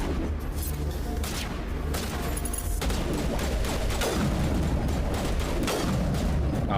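Rapid gunfire from a weapon in the video game Mass Effect, loud continuous bursts with sharp repeated reports and booms running throughout, a voice faintly underneath.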